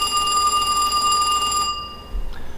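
A telephone rings with a sustained metallic bell tone for over a second and a half, then stops abruptly, followed by faint low rustling.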